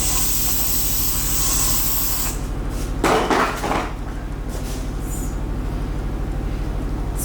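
Hair spray hisses from a can in short bursts, a bright airy spray sound over a steady background hum, with a brief clatter midway.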